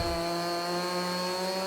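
A chainsaw drones steadily while cutting trees in a farming video game, a constant buzzing engine tone holding for under two seconds with no variation or other sounds.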